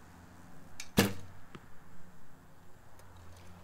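A single sharp arrow release from a recurve bow fitted with Uukha Ex-1 Evo2 curve limbs, one crisp snap followed by a short fading hum and a faint later impact, close and fairly quiet with no talk.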